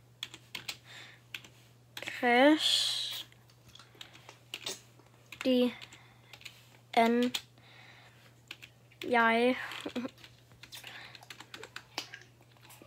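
Someone types on a computer keyboard with bursts of quick, light clicks. The clicks are interrupted by several short spoken phrases, and a steady low electrical hum runs underneath.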